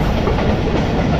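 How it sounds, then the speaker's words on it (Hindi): The Pakistan Express rumbles toward Khairpur station at night, a loud, close rolling roar of wheels and wagons with steady rail clatter. "स्टेशन पर अप्रोच बना रही है इस वक्त ट्रेन"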